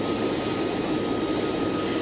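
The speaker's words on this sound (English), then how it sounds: "we also have a tower cam that is showing her plane as it's taxiing in" Vice President Harris's jet taxiing in at Maxwell Air Force Base, a steady broadband engine roar holding at an even level throughout, with no talk over it.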